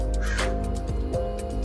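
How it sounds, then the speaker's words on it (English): A crow caws nearby, giving three or four rough calls in a row over a steady low hum in the background. "Are you annoyed, like I am, by this crow over here"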